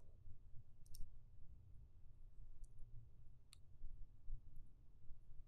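A computer mouse clicks the Edit Privileges button while setting MySQL root passwords, a few faint, sharp clicks spaced apart over a quiet low hum.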